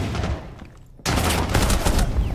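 Gunfire from a wall-bang shot in the tactical shooter Rainbow Six Siege during ranked play, a sudden loud burst after a quieter stretch, with dense rattling shots continuing under game noise.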